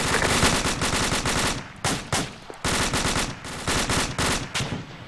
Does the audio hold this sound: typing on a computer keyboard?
no